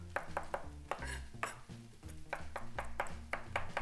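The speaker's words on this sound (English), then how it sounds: "I'm gonna run my knife through it" A knife chops fresh cilantro on a board in quick, uneven strokes, each one a sharp, close tap, repeating about a dozen times over a few seconds.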